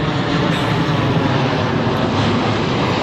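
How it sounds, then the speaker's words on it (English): Steady, loud airplane engine roar passing overhead, a continuous broadband drone that fills the whole stretch without a break. "Sorry, there's a plane above me."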